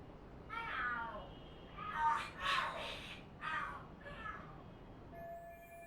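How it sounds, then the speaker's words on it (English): Cats fight and scream in the video game Lost Judgment: a run of drawn-out, wavering yowls that rise and fall at moderate loudness, with a brief steady electronic tone at the end. "Oh, are there cats fighting? What are they screaming for?"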